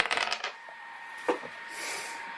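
A fate die rolled during a tabletop roleplaying game, giving a brief clatter of several quick knocks on the table, followed by a fainter tumble and settling sound.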